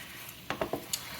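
A wooden spatula scrapes and clacks against a stainless steel pan while morel chicken cooks, four quick scraping strokes over a steady background hiss.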